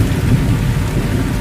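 A thunderstorm rages with heavy, steady rain and a low rolling rumble of thunder, loud and dense with no voices over it.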